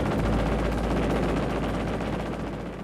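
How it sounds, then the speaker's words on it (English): Six Browning M3 .50 caliber machine guns on an F-86 Sabre jet fire in a sustained, dense roar of rapid shots that runs unbroken for several seconds and fades only slightly toward the end. "The F-86 Sabre was armed with 6 50 caliber Browning M3 machine guns"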